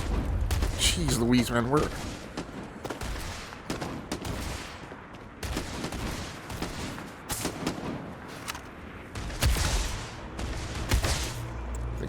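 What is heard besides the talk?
gunfire in video game Starfield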